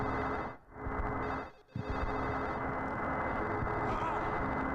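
Telephone ringing inside the Silent Hill 4 horror game, a steady tonal ring sustained through most of the stretch with two brief dropouts, loud and close over a dense background.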